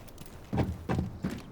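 Three heavy, evenly spaced footfalls thud in the Delta Force video game, close and distinct against a quiet background.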